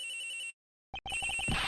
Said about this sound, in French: sonnerie vient d'ici, à l'intérieur, monsieur